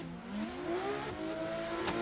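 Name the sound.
drift cars racing, a BMW and a Nissan S15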